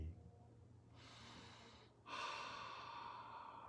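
Slow meditative breaths: a soft inhale swells in, pauses, then a longer, fuller exhale follows, close and quiet over a low steady hum, with no talking.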